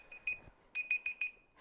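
A timer alarm beeps in short high electronic pulses, one early beep then a quick run of four, faint and close in an otherwise quiet room.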